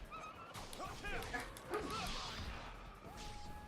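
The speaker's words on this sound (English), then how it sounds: "Dogs are the worst in any type of action game" Dogs bark and yip during combat in the action video game Ninja Gaiden 3, with sharp repeated barks and whimpers over busy game effects and music, while someone talks over them.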